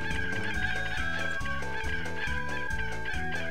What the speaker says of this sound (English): running into him apparently just causes him to make chicken noises